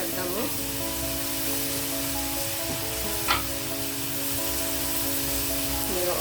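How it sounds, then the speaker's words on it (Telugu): Chicken frying with curry leaves, green chillies and chilli powder, giving a steady, even sizzle close by and a brief sharp crackle midway, with no talk over it. "ఇదిగో కరివేపాకు, పచ్చిమిర్చి కూడా వేసేసాను. ఇవి కొంచెం వేగుతున్నాయి కదా"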